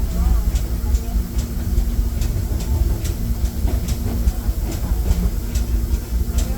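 The Disneyland Railroad train rolls along its rails with a loud, steady clickety-clack and rumble, with regular wheel beats throughout, heard close from on board.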